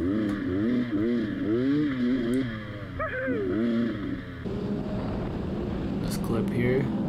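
Beta 300 two-stroke dirt bike playing in the background, the engine revving and dropping in rising and falling waves with clattering, heard under a man's continuous speech.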